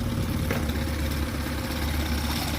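A 2013 Tohatsu 8hp outboard motor idles after warming up, a steady, loud, close low rumble with a buzzing mid-range chug that holds even throughout, with no voices.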